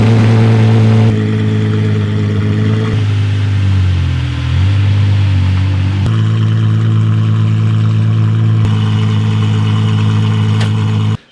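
An Apollo IE V12 hypercar engine runs loud and close with a deep steady drone, dipping briefly and then surging with sharp rev changes before cutting off abruptly at the end.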